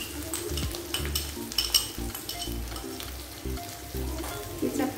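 Chili sauce hitting a hot pan during stir-frying of kwetiaw goreng, a loud close sizzle and crackle with light scraping and utensil clinks, steady throughout with no talk.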